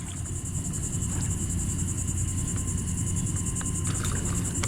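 Crickets and other insects drone steadily at night beside the Mississippi River, a dense continuous high trilling with faint clicks over a low rumbling background and no speech.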